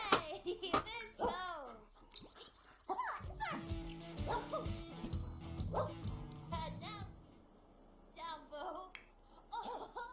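Dog barking and yipping in The Sims 4 video game, several short barks near the start, then background game music and chatter, with a few whimpering yips near the end; people talk throughout.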